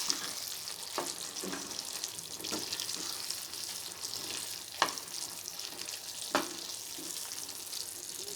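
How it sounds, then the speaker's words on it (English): Paneer slices being stirred into thick Manchurian sauce in a pan: a soft continuous sizzle broken by several sharp scrapes and taps of a spoon against the pan. "Paneer should be mixed well with sauce."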